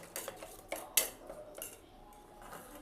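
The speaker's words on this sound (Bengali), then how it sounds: "আমি এবার ভালো করে এটাকে ঘুটে নেব।" Egg mixture with a little ghee is beaten in a bowl with a metal utensil, giving sparse, light clinks and taps against the bowl, with one sharper knock near the middle and no talking.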